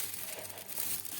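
A plastic oven bag for roasting chicken and potatoes being handled, giving a close, continuous crisp crinkling and rustling with no pauses.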